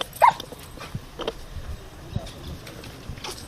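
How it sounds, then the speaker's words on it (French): Explosive detection dogs working a security checkpoint at an outdoor ceremony, with a sharp yip or whimper near the start and scattered faint dog sounds, snuffling and footsteps amid handlers talking. "Les chiens d'explosifs sont au contrôle."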